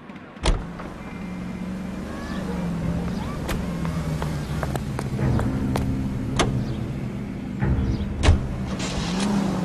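A car drives in the LA Noire video game, its engine a steady, loud drone throughout, with a few sharp clicks and bumps on top.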